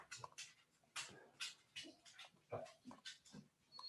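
A dog named Murray pants and whimpers in short, snuffling, agitated bursts, faint and close, with no talking.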